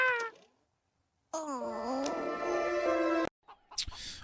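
Cat meowing in the video game Suikoden, a brief mew followed after a pause by a longer, drawn-out meow, ending with a short rustle, all close and clear.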